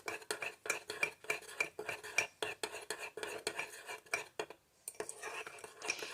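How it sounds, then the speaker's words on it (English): Ingredients for kung pao bacon are stirred together in a bowl, with quick rhythmic scraping and clinking of a utensil against the dish, close and fairly quiet, pausing briefly before resuming. "And now I'm just mixing everything together."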